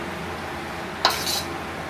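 A single sharp clink of a utensil against a cooking pot while food is stirred, followed by a brief scraping rustle, close and isolated against a faint background hiss.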